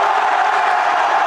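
A varsity high school basketball crowd in the Towson versus Dulaney game roars in a brief, loud, continuous burst of cheering and shouting with no clear single voice.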